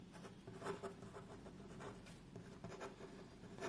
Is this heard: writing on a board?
yes